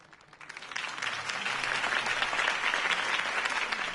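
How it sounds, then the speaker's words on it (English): Applause from a crowd at a campaign speech in the video game Batman: The Telltale Series swells in after a quiet start and holds steady, a dense wash of clapping with no voices on top. "could have heard that applause"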